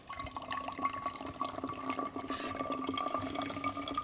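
Water boiled for a long time over a campfire in a snow shelter trickles and drips steadily through a coffee filter, a soft continuous pour with small drip patters, close up, no talking.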